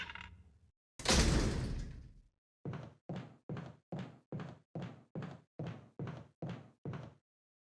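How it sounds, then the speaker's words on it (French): A door in Resident Evil 1 creaks and slams open loudly, then a clicking, clacking mechanism ticks off about eleven evenly spaced, near, loud beats. "c'est vraiment un speedrun regarder des portes qui s'ouvrent"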